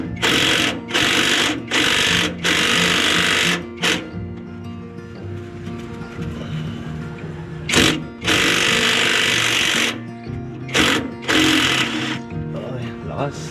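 Impact wrench working on a camper van, several loud rattling bursts of a few seconds each separated by short pauses, close by, with a voice talking in between.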